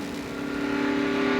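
Mark Martin's stock race car engine roars steady and loud from the in-car camera at the 1996 Pepsi 400 at Daytona, a sustained high-revving drone that swells slightly, no talk.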